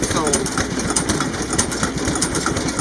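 A large vintage stationary engine of the kind once used to drive a blacksmith shop line shaft chugs steadily with rhythmic low thumps and clanks, close by, while people talk over it.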